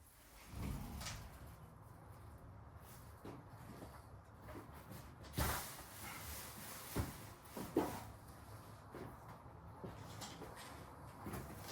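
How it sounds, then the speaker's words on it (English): A balcony door is opened indoors, heard as a faint sliding rumble and a handful of scattered bumps and clicks from the door and the room, fairly quiet throughout. "I'm gonna open up my balcony door."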